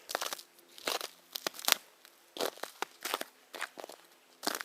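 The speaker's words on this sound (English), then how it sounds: "A lot of little crackling things too, where bits of twigs or whatever are falling off the trees" Small twigs and bits falling off trees on a wooded hillside, producing scattered dry crackles and snaps in irregular bursts, fairly close and quiet with no voices.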